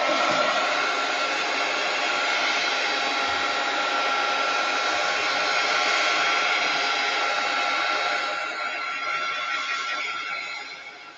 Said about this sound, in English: I'm now going to dry the tree and then we will continue.